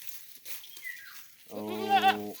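A goat bleats close and loud on a farm, a single long, wavering cry that comes after a quieter stretch of faint sounds and a thin high call, with no talk.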